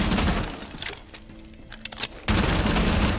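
Rapid bursts of Bearing 9 submachine gun fire tear open a wall in Rainbow Six Siege, loud and close with crackling breakage, a brief lull, then another dense burst.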